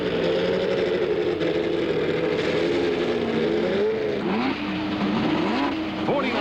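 A 1970 Indy 500 race car pulls away from pit lane after a stop, its engine droning steadily and rising in pitch as it accelerates back onto the track, with other engines and a loud circuit din throughout.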